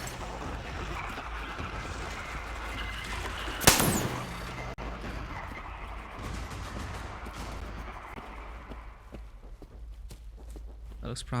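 A single sharp, loud gunshot of incendiary ammo in the video game Metro Exodus stands out amid a busy, rumbling game soundscape with footsteps-like movement and ongoing noise.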